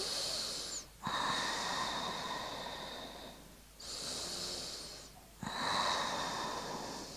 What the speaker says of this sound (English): Taking a few deep breaths here.